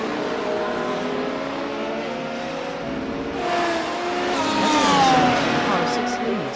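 Race car lapping the Phillip Island circuit, engine note climbing and falling through gear changes, with a louder rising surge near the end, while a commentator talks over it.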